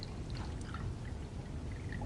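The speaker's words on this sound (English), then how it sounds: "the water is coming out of the overflow can now" Water pours steadily out of the spout of an overflow can during a volume measurement, a soft continuous trickling and splashing that stays even throughout, faint and close with no voices.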